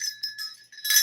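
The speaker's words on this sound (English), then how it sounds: "Here's my bells." Small handheld bells jingle in short bright bursts, with a quieter shake in the middle and a louder, fuller ringing at the end; no one speaks.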